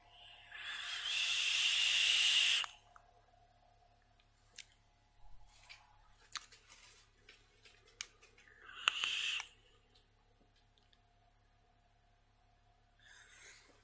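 A vape inhale of Green Liquides Castle 50-50 e-liquid at 20 watts, heard as a loud, close hiss lasting a couple of seconds. A second, shorter hissing draw follows amid faint clicks and handling noises.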